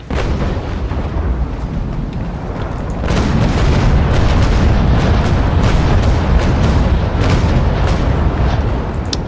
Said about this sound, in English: That was a bit of a wasted broadside.